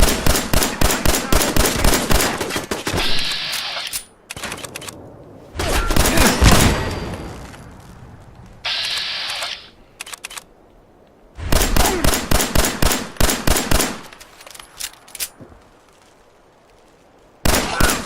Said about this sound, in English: Well, that's a shotgun.